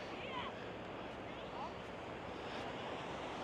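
Sea waves washing at a quiet beach in Peel, Isle of Man, a soft continuous surf wash in the background, faint and steady, with a few brief chirps above it.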